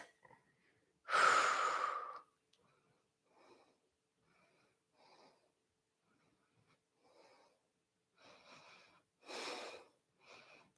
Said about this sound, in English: Big belly breaths.